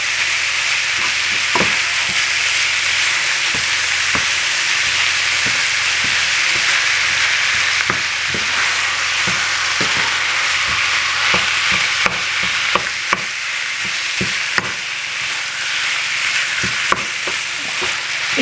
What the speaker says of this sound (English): once you add the meat, you really gotta mix it together well